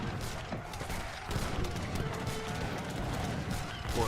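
Artillery firing on Cossacks in an Age of Empires 3 battle, a dense clatter of booms and crackling shots layered over busy battle noise, with a voice faintly present in the mix.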